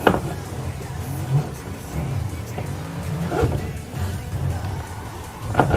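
Drift car engine in the Assetto Corsa racing game revving up and down in repeated surges, loud and close, with tire noise mixed in and no talk.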